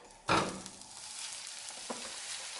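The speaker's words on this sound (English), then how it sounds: "And then I'm going to add my beef mince carefully." Beef mince hits hot rice bran oil in a pan with a sudden loud sizzle, settling into a steady hiss of frying with a brief stir clatter, close by and without talk.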